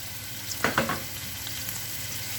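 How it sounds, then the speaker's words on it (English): Broccoli added to a pan of spring onion stalks frying in oil over low heat, a steady soft sizzle with a few brief crackling bursts as the pieces land. "Going to add in the broccoli,"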